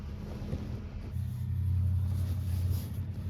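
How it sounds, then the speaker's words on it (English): A car drives past a parked camper near an airport, a low rumbling pass that swells after the first second and holds steady, with no voices. "I just had somebody drive right by me"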